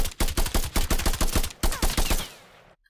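Rapid string of punchy blasts in a shooter video game, about a dozen loud close bursts in quick rhythm with a brief gap near the middle, then a fading tail that cuts to silence.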